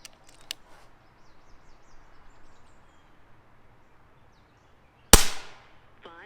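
A single sharp crack from an Ataman AP16 regulated compact air pistol, loud and close, standing out against a quiet background with faint small clicks before it.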